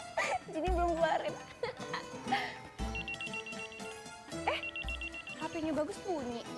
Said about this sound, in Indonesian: HP-nya Bagus bunyi.